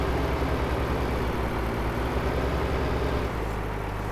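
Vehicle engine idling steadily in Farming Simulator 2015, a continuous low rumbling drone that fades slightly near the end, with no one talking over it.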